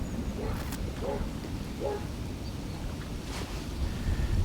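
Wind gusting at a fishing lake at Lindholme Lakes, a steady rushing roar across the microphone with someone talking over it.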